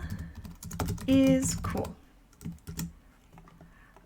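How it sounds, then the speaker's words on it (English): Someone types on a computer keyboard while working in an Excel spreadsheet, with a few scattered key clicks and brief talking over part of the sound. "I'm simply going to type Excel"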